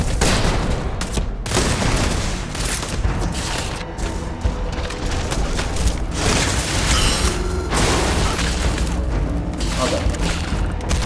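Loud, dense gunfire and booming blasts from a pump-action shotgun in Starfield fill the whole stretch, with heavy shots and impacts overlapping continuously and a voice talking over the combat.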